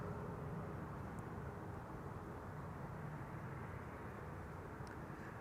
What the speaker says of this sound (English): That's a 777-300 arriving from Curaçao